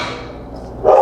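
A dog gives a single short bark near the end, close and fairly loud, in a home kitchen during cooking.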